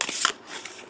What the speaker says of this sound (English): shuffle him up again